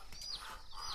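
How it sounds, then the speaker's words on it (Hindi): Small chicks being caught let out repeated high, thin chirping peeps up close, in two quick bursts that rise and fall over a quiet background. "छोटे चूजे पकड़ो"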